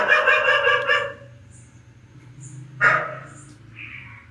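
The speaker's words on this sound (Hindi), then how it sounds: "ये मेरे लिए बड़ी हैरान की बात है कि कमरे की तरफ रुक करके क्यों भौंक रहा है?" A dog barks repeatedly toward a room indoors, a rapid run of loud close barks at the start, then quieter sounds and a brief sharper noise later.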